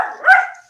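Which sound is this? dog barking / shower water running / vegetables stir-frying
dog barking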